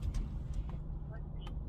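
A car drives along at a steady pace, its low engine and road rumble running throughout, with a faint brief tone and a couple of soft clicks on top and no other sounds.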